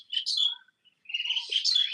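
Birds chirping and tweeting during an outdoor nature walk near a plant where orioles and other birds gather, two bright bursts of high calls separated by a short pause, clear and fairly close, with no talking.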